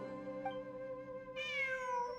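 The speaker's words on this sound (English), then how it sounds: "It really is a cat" A cat meows in Genshin Impact, one drawn-out cry rising over steady tonal game music.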